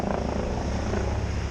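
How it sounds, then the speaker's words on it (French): Police helicopter hovering above a Paris street during a yellow vest protest, a loud, steady, close rotor drone that fills the whole moment without any voices. "Avec l'hélico là-haut, qui surveille."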